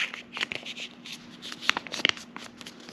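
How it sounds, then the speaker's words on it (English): Sheet of paper folded in half again while making a paper snowflake, a few soft crisp rustles and creases close by, fairly quiet with no talking. "Fold it in half again."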